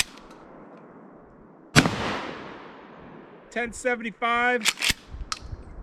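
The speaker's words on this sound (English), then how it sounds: "We're going to put 3 shots across the chronograph and see what we get." A single loud, sharp blast from a Mossberg Shockwave 20 gauge shotgun firing Federal #3 buck, with a decaying boom, followed by someone talking and a second loud crack at the end.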